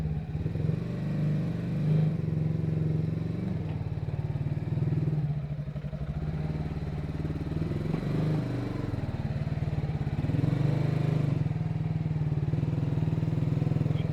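Motorcycle ridden over a 4,000-meter mountain pass in Pakistan: a continuous loud engine drone with throbbing low rumble and slight rises in revs, close to the microphone, no talking.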